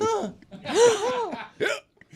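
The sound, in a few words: imitated hiccup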